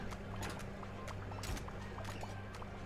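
Aquarium water ambience from the Megaquarium management game, a constant bubbling and gurgling wash of water with small splashy pops spread through it, steady and fairly close throughout.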